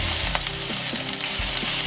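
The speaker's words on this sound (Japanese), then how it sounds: "肉にある程度焼き色がついたらさっきの野菜を入れていきます。" Vegetables fry with browned chicken in a pan for a chicken spice curry, giving a loud, continuous hissing sizzle with a few soft stirring knocks.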